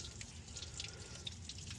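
Water drips from the water-only cooling system of a 2004 Chevy Tahoe during a water pump replacement. The dripping is faint and steady, with small plinks scattered across a low background hum.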